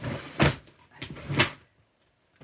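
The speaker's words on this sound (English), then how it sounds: "my drawer has jammed. Something's stuck in there." A jammed drawer, with something stuck inside, is tugged in three firm bursts of scraping, rattling pulls, each lasting about a quarter second, close by, followed by near silence.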